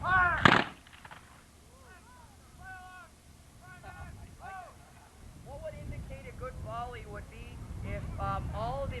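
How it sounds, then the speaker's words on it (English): Many men fire their muskets in one volley, merging into a single sharp, loud blast at the start, then someone talks and a crowd murmurs afterward. "All the men fired and it sounded like a single musket."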